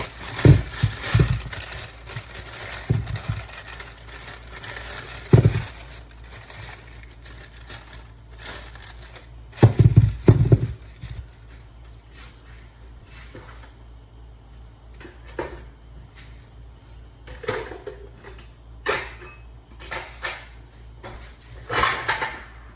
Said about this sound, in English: let me cut the sweet potatoes up